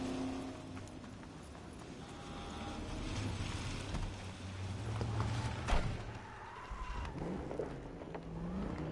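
Car driving in the Cyberpunk video game, a steady engine and road rumble running throughout with a sharp thump or impact midway, under game ambience.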